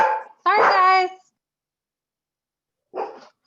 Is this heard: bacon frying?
no